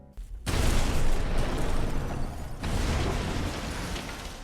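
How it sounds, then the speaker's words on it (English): Explosive gel detonating in the video game Batman Arkham Asylum: after a brief quiet start, a loud rumbling blast rolls on, followed by a second burst of crackling, booming debris that tails off toward the end. "My personal favorite? The explosive gel."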